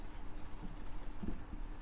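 Chalk or marker scratching across a classroom board during a class 11 maths lesson on complex numbers, a steady faint rubbing with a few slightly stronger strokes near the end.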